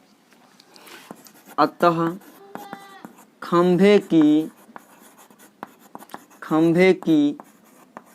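Pen scratching across paper while a math problem is worked out, with the strokes running in the gaps between a man's speech, which dominates the clip.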